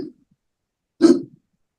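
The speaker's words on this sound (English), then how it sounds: "More hiccups." Two short, abrupt hiccups a second apart, close and fairly loud, with silence between and no talk.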